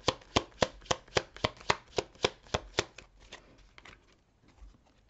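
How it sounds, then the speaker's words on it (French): Tarot cards being handled and shuffled: a steady run of about a dozen crisp, evenly spaced riffle-like snaps close up, then softer, scattered rustles as cards are drawn, with no talking. "je vais terminer juste en prenant une autre carte"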